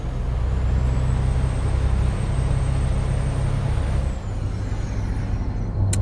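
Truck engine accelerating in a driving game, heard from outside: a steady, loud low drone with a rising whine held at high pitch, which drops and shifts near the fourth second as the engine note changes.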